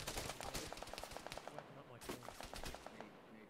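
Rapid automatic gunfire bursts from the ARMA 3 video game crackle in quick rhythmic volleys, with a short pause between two bursts and a steady background of game ambience.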